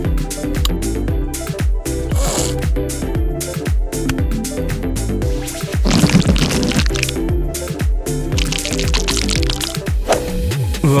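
Water splashes and pours while cleaning up spilled glitter at a high school, loud and close, with wet slapping, dripping and sloshing layered under tonal music.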